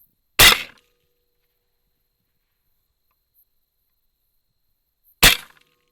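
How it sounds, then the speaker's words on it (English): Two sharp, loud 7mm Valkyrie rifle shots fired at hogs in a West Texas field, about five seconds apart, each a sudden crack with a short decaying tail, separated by near silence. "I missed almost all of my first shots"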